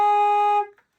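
One short A-flat note sounds clearly and steadily for just over half a second before cutting off quickly, alone against silence.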